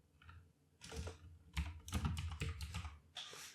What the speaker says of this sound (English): my mic is in the way of my keyboard, which is why I type like a buffoon